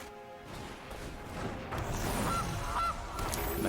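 A cartoonish goose honks twice in the card game MTG Arena, short nasal calls over a dense layer of game effects and whooshing background sound.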